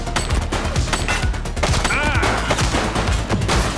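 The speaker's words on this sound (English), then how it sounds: "He's shooting!" Dense gunfire from the police video game The Precinct, with rapid overlapping shots and bursts in a loud, sustained fusillade over several seconds.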